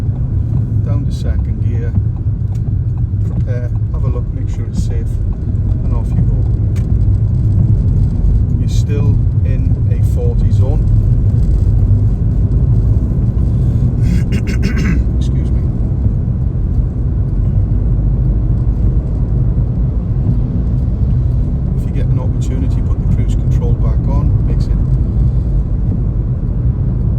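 Car in Swansea driving along a test route, a continuous loud low engine and road rumble filling the whole stretch, with an instructor talking over it throughout.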